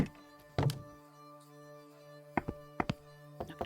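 Knocking on a door in a video game: one heavy thunk early on, then a quiet gap, followed by a scattered series of sharper, lighter knocks over a steady low musical drone.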